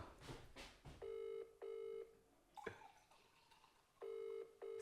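A telephone call rings out unanswered, with a loud electronic ring tone repeating in three long bursts and quiet gaps between them, over faint room noise and a brief clatter.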